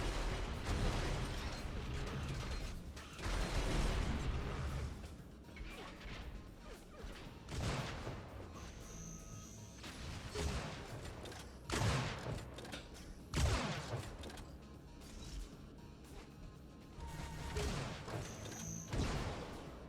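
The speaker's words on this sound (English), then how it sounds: "So we see these shots going back and forth." Gunfire exchanged in the video game Unreal Tournament during a competitive match, repeated sharp blasts and explosive bursts, loud and close, coming in irregular volleys over continuous game noise.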